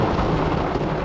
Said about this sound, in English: Well, we're on thunderstorm about number 5 now this morning.